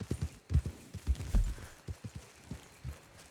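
White Arabian horse walking in the video game Red Dead Online, soft hoof clip-clops in an uneven steady gait, fairly quiet.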